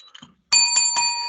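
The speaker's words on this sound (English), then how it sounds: "There's the bell, so we know what that means." A bell rings three quick, bright metallic strikes with a lingering ring, loud and close after a few faint clicks, closing a wrestling podcast; no one talks during it.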